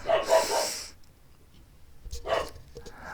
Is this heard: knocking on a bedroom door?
no